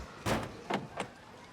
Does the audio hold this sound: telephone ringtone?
no